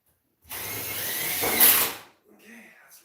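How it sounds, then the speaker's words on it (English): A power drill drives a screw to fix a vent in place. It whirs steadily for about a second and a half, then rises briefly and stops, followed by faint handling noise. "I'm going to pull on this vent and screw it in place."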